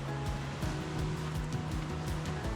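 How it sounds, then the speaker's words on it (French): Tendon waterfall in the Vosges pours in a steady, unbroken broadband rush, close and fairly loud, with a faint low hum underneath and no voices. "c'est la cascade de Tendon"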